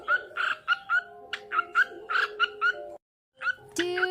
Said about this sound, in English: I wish my birds sang to me like this